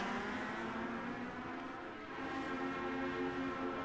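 U.S. Legend 34 coupe race cars racing at Myrtle Beach, a pack of engines droning in layered harmonics, dipping briefly then swelling again, steady and moderately distant.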